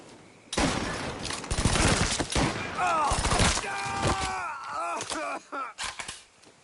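Video game gunfire from a new gun in Mafia 3: dense bursts of rapid shots, loud and close, mixed with shouting voices and game sounds, thinning into a few scattered shots near the end.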